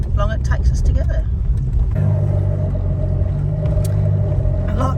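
A 4WD vehicle rolls along a bumpy sandy track in Coffin Bay National Park, its engine a steady loud rumble with rattles and jolts throughout, and voices talk over it.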